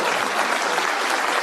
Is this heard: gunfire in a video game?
no